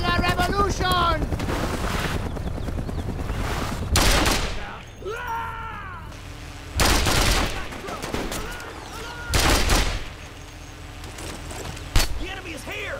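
Heavy gunfire in the video game Mercenaries 2: World in Flames, with loud bursts of automatic fire and booming blasts repeating every few seconds under game voices shouting, plus whooshing wind and vehicle noise.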